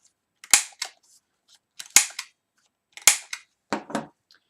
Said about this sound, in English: Take your corners off with your corner punch.